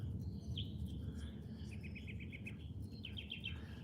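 Several small birds chirp and trill in short repeated bursts, some quick rapid-note phrases, heard at a moderate distance over a steady low outdoor rumble with faint insect hum.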